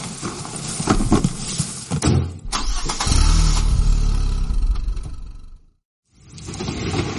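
A car engine turns over and catches, then revs with a loud low roar and pulls away over several seconds before cutting off abruptly, followed by a brief return of background noise.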